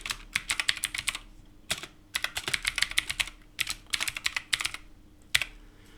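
Rapid typing of code on a computer keyboard, close and crisp, with clustered bursts of key clicks separated by brief pauses and a few heavier thumps, no voices.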